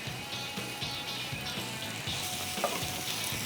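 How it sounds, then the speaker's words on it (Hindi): Chicken sautéing in light oil gives a steady close sizzle with rhythmic stirring and scraping, alongside a low background hum; nobody speaks. "हल्के से ऑयल में यहाँ पर चिकन को मैं सॉटे कर रहा हूँ"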